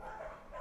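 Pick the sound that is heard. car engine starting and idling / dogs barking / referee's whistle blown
dogs barking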